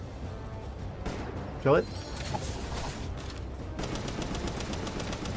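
Gunfire from shooting ammo in the video game Palworld, a steady stream of rapid shots under a brief spoken remark, with a louder burst early and denser rattling toward the end.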